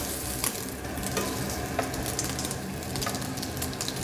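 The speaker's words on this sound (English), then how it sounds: "The bacon's getting a little bit crisp." Bacon crisping in a pan gives a loud, continuous close sizzle and spatter, with crackling pops scattered throughout and no pause in the frying.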